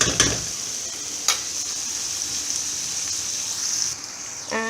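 Pav bhaji vegetables frying in a pan give a steady crackling sizzle, with brief stirring scrapes near the start and around one second and a faint tonal clink at the end.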